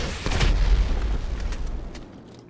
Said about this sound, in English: let's see how well this thing can take a rocket blast